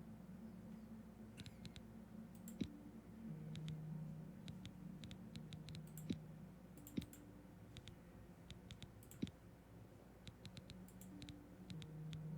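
Quiet, sparse clicks from a computer mouse and keyboard tap out irregularly against a low background hum, some in quick clusters and others isolated.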